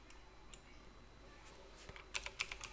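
Quick bursts of computer keyboard typing while entering shop page text, a few sparse clicks giving way to a rapid run of sharp keystrokes, close up and fairly quiet.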